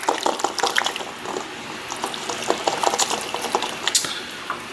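Beef stock pouring into a pot of tomato-based beef sauce on the stove, a steady close liquid splashing and trickling with small bubbling pops, no voices.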